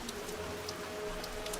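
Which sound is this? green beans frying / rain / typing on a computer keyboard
rain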